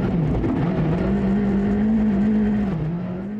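A rally car from a WRC video game at Rally Sweden, driven flat out: a loud, steady engine drone holding a high pitch with small dips and rises, alone throughout.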